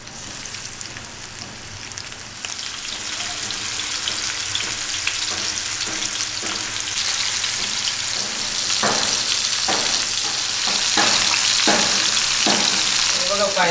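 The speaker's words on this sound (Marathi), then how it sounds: "फायनली स्नेहाने मस्तपैकी मांदेली पण आता पॅनमध्ये सोडलेली आहेत." Flour-coated mandeli fish sizzle steadily in hot oil in a pan, a dense crackling hiss that holds throughout, with occasional louder spits and pops toward the end and no voices.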